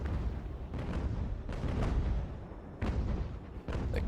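Sailing warships trade cannon fire in the video game Ultimate Admiral: Age of Sail, with several deep, rumbling booms spaced a second or so apart over a continuous low battle rumble.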